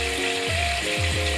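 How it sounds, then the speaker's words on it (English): Chicken frying in a pan for a noodles-with-cheese dish, a dense continuous sizzle and crackle that stays loud and close throughout, with faint scraping underneath. "As you can see, we are frying our chicken."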